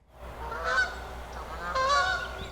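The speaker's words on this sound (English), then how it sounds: "The call and response of birds over the drone of the nearby highway" Geese honk outdoors, two loud bursts of calls that answer one another over a low steady hum of distant highway traffic.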